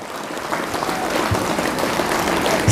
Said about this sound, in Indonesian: Kita beri aplaus dulu adik-adik semuanya untuk guru-guru yang luar biasa